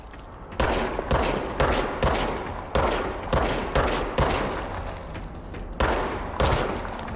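Heavy gunshots in a Remedy video game, a series of loud booming reports at irregular intervals, each with a decaying tail, up close and without talk.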